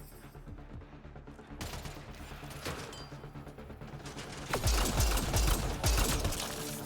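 Gunfire in a Mass Effect: Andromeda firefight, starting as scattered shots and building to heavy, rapid volleys with loud blasts near the end.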